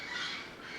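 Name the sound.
birds squawking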